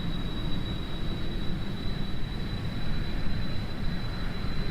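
A jet aircraft's engine thrust in Kerbal Space Program near the sound barrier, a loud continuous roar with a dense low rumble and a thin steady whine on top.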